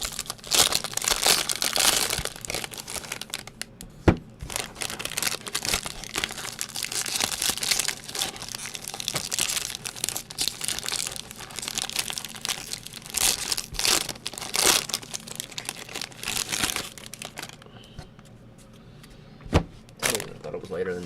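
Crinkly plastic wrapper of a 2017 Bowman Draft trading card pack being cut and torn open, a busy stretch of crackling, rustling and sharp tearing bursts under ongoing conversation.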